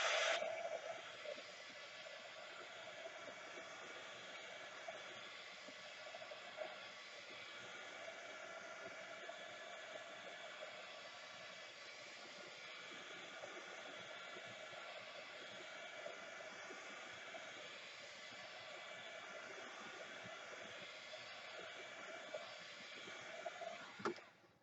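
A handheld dryer blowing hot air over wet paint on paper, a steady loud whooshing hum that runs continuously and close for the whole stretch, with a faint click as it switches on and off at either end.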